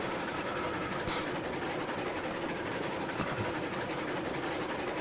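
A video game train screams straight through a rail yard, its steady rolling rumble and clickety-clack of wagons continuous and fairly loud throughout, with no voices.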